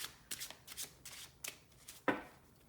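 A deck of tarot cards is shuffled by hand in several quick riffling bursts, ending with a sharper slap as the cards are squared.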